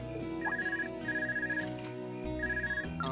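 An in-game telephone in Trails of Cold Steel rings with three repeated electronic trills that pulse rhythmically over steady game music.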